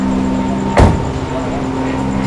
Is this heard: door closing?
yes